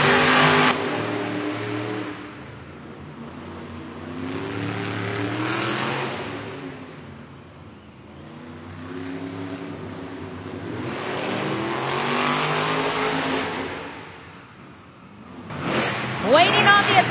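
Monster trucks JCB Digatron and Megalodon roar off the line at a Monster Jam arena event in Birmingham, UK, their engines surging and revving in repeated loud waves. An announcer's voice carries over the noise.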